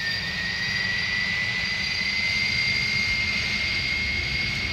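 Airbus A300 jet engines in a flight simulator spooling up for a go-around, a steady loud turbine roar with a sustained high whine over broadband rumble, continuous and even with no voices.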